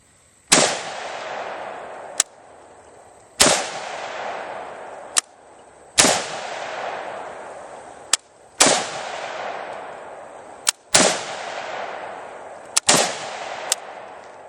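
Six loud semi-automatic gunshots ring out at slow, even intervals outdoors, each with a long echoing tail, and a sharp mechanical click of the trigger resetting follows most shots.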